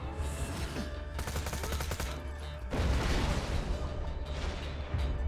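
A grenade explosion and rapid gunfire in Borderlands, with bursts of automatic shots followed by a heavy boom and more firing, loud and close.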